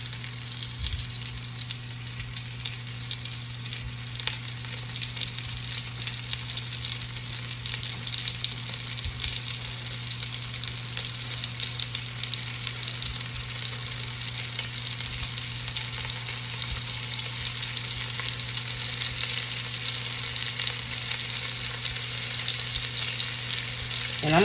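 Beef stew meat fries in bacon grease over medium heat, a dense, steady sizzle and crackle with an underlying hum throughout, close and fairly loud, no voices.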